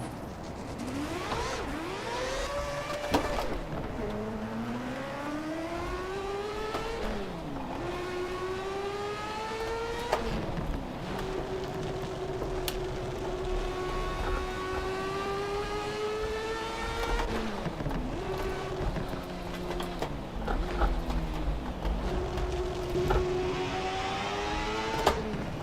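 A 500-horsepower Lexus GS300 engine in the Assetto Corsa racing game on a track day, smoking and near failure, revs repeatedly through rising gear pulls with sharp drops at each shift, loud and continuous.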